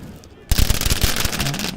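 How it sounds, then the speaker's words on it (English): Fireworks crackle and bang in a rapid, dense volley after a quieter opening, loud and close with a continuous rattle of small bursts, set in London around a protest. "More fireworks."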